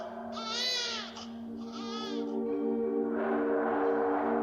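A newborn baby cries inside a house, with several loud, close wailing bursts and short pauses between them over a low, steady hum.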